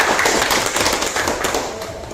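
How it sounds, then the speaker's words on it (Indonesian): Audience applause closing a school event at SMK Negeri 1 Batang Natal, a dense, steady patter of many hands clapping at close range that thins slightly toward the end. "kita kasih aplaus dulu untuk kegiatan kita"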